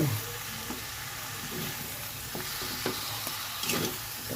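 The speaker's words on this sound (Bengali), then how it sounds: "লবণটা মিশিয়ে নেবো এখন" Salt being stirred into chicken kosha in a pan, with a continuous soft sizzle and occasional light scrapes of the spoon, close and moderately quiet, no talk.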